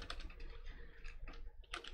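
Rapid clicking of a computer keyboard being typed on, quick uneven keystrokes close by and fairly loud, with a denser burst of clicks near the end and no voices.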